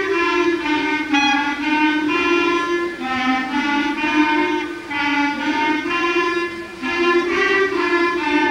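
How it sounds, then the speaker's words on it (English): A school clarinet section from a combined Irving and Longfellow band concert plays sustained, harmonically rich notes in unison, holding long tones with brief breathing dips between phrases, close and clear with no talking. "And now we're going to listen to the sound of the clarinet."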